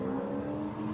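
V8 Supercars race cars from the 2002 round at Pukekohe running on track, a loud, sustained engine drone with steady tonal hum, close and continuous, with no talk over it.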